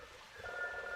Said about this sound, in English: The ringing isn't coming from my phone droid. Obviously not. It's from the phone in the hallway.